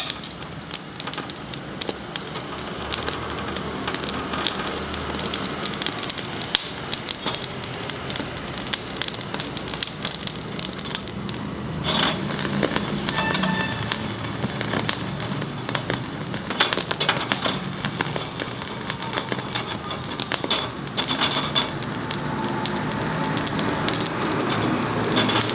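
Coconut roasts over an open fire, giving off a continuous dense crackling and popping, like rain on a surface, that carries on steadily without pause. No speech is heard.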